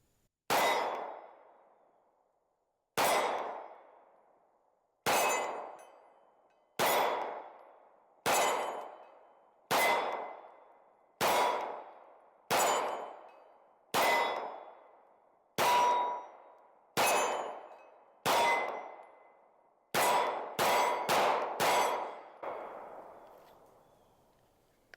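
Springfield Armory XD Mod 3 pistol fired at steel targets from about 13 yards on a range: about a dozen sharp shots with ringing metallic clangs, evenly spaced every couple of seconds, then a quicker burst of four near the end.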